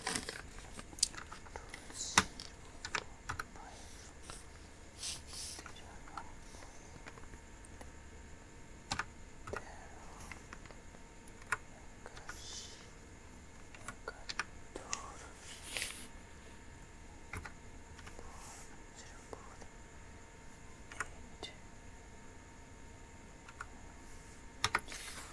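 Steady typing on a computer keyboard, with quiet, irregular key clicks and occasional sharper taps that run through a long stretch with no talking.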